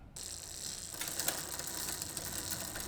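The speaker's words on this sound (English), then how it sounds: "Shift to the largest cog to find out." A bicycle chain shifting onto the largest rear cog while a rear derailleur is adjusted, a close, steady mechanical ratcheting and clicking that grows busier after the first second, with no voices.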